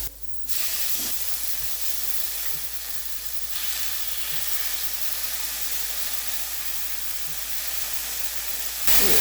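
Bulgogi beef frying on a grill with mushrooms and garlic gives a steady, close, loud sizzle and hiss that runs without a break, with a few faint clicks and stirring sounds beneath it.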